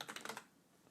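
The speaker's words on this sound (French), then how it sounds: "j'appuie sur entrée de mon clavier" Quick run of keystrokes on a computer keyboard, five or six crisp close taps in a row ending in a final press of the enter key, faint and dry, then a quiet trailing hush.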